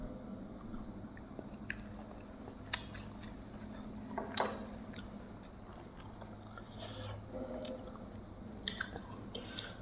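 Chewing on sticky rice dipped in jaew sauce, soft wet mouth sounds with a few sharper clicks and smacks, close and fairly quiet over a low steady background hum.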